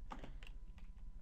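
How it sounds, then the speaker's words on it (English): A few quick taps on a computer keyboard's arrow keys, close and quiet, clicking in a short irregular burst. "you can use the arrow keys to position stuff"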